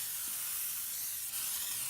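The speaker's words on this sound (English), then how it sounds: "I'm coating my pan with some Pam" Pam cooking spray sprayed onto a pan, a steady close hiss lasting the whole two seconds with no talking.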